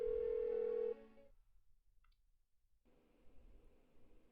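Electronic phone ring tone in Persona 4 Golden, one loud steady tonal burst that cuts off, followed by a short silence and a faint low hum, no one answering and no talk.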